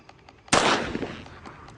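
A single sharp gunshot in the horror game Granny 2, a sudden loud crack followed by a short decaying tail, set against a quiet background.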